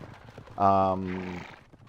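A brown horse mount in the online game Age of Cignare Online gives one short, close neigh with a bright, harmonic whinny, heard over faint background murmur.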